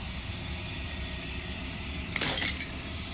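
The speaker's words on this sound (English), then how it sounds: "As the final fragment of glass shatters" In the video game Slay the Princess, a brief bright glass shatter with tinkling fragments rings out once over a steady droning ambient background.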